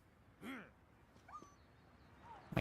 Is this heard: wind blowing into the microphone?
no